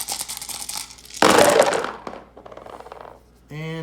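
Dice for a German attack in West Russia in an Axis & Allies board game clatter loudly onto a hard surface, a burst of rattling and rolling that settles into scattered clicks, with a voice briefly heard at the end.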